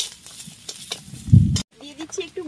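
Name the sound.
stirring spices, turmeric and sugar frying in a pan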